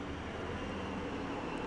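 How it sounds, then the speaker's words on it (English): A helicopter flies overhead, heard as a brief, steady, broadband rumble of moderate loudness with nothing else standing out. "Oh, look, there's a helicopter."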